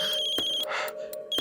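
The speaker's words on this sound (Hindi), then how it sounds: "किसका फोन है वरुण?" A phone rings indoors with a steady electronic tone broken into short repeating bursts, close and clear with no talk over it.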